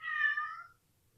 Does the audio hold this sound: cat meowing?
yes